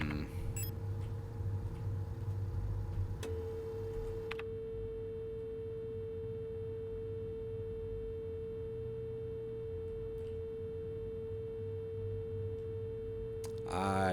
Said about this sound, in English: So each of these tones is going to be one of the symbols